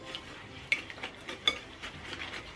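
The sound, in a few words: mixing brownie batter with eggs and vanilla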